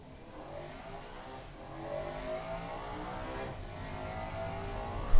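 A 2004 hypercar in the racing-simulation game Automation accelerates hard. Its engine drones and climbs in pitch as it builds speed, loud and continuous, swelling further toward the end with no talking.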